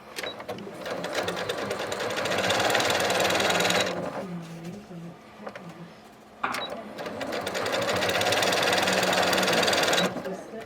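Sewing machine top stitching cork bag pieces, running in two long steady bursts of rapid, loud stitching with a short pause between them.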